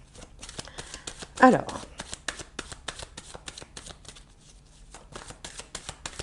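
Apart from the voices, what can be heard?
tarot cards being shuffled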